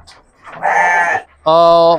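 Two loud, close bleats from a sheep held for qurban sale in a Jakarta Timur pen: a shakier call, a short pause, then a steadier, clearer one.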